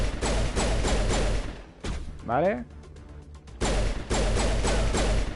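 Rapid gunfire from a weapon in Mass Effect 1 Legendary Edition, loud dense bursts of shots at the start and end with a short pause between, where a voice speaks briefly.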